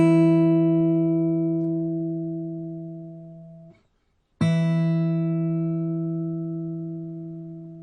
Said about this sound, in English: Now pluck the same 2nd note with the high E string.